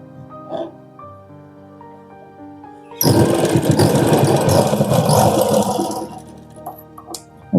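A sewing machine runs around the neckline of a lining blouse, a loud close continuous mechanical whir lasting about four seconds, with quiet handling noises before and after.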